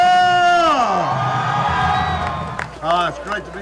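UTSA Roadrunners football fans in San Antonio, Texas, scream and cheer in a loud, sustained crowd roar, with a high whooping voice rising over it before the noise breaks into scattered shouts.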